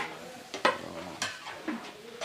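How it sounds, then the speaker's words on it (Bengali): Beef kalabhuna being stirred and fried in a pot in a hotel kitchen in Rajshahi, with a few scraping stirs of a spoon against the pot over a soft, steady sizzle. "এটা কি সেই কালাবোনা রান্না হচ্ছে ভাই?"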